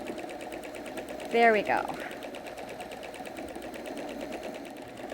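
A sewing machine stitches free-motion quilting loops around a quilt border, a fast, even, close-up whirring needle rhythm running throughout, briefly under a short spoken phrase.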